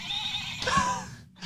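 A Build-A-Bear toy stick horse plays a recorded horse neigh, a short whinny with a wavering pitch that cuts off abruptly, heard close and alone without talk.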